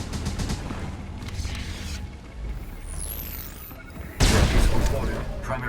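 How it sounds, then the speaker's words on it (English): A space station blowing up in SWTOR's Hammer Station flashpoint: rumbling game audio with a rising electronic sweep, then a loud, sudden booming explosion burst that swells and lingers to the end. "Station is exploding."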